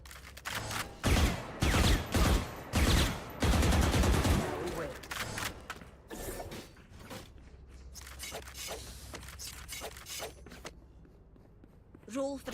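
Rapid bursts of gunfire in a shooter video game, several loud volleys crowding the opening seconds and then sparser, quieter shots, with players talking over the action.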